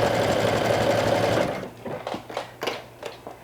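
A sewing machine stitches fabric in a loud, steady whirring run that stops abruptly, followed by a few short, irregular mechanical bursts and clicks.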